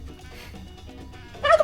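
A turkey gobble sound effect plays as a stream donation alert, starting with a low murmur of background sound and ending in a sudden loud, bright gobbling burst near the end.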